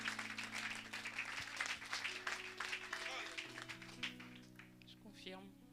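A church congregation applauds and cheers over sustained music and organ-like tones, with a steady wash of clapping through most of the stretch and voices mixed in.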